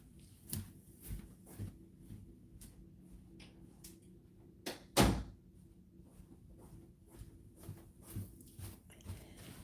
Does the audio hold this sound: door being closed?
yes